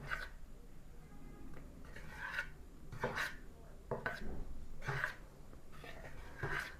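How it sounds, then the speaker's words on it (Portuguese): A spatula gently folds flour into a creamy homemade cake batter in a bowl, giving soft, quiet scraping strokes at a slow, even rhythm, several in a row, with a few faint breaths between them. "Coloca um pouquinho e mexe bem devagar para não tirar o ar dessa massa"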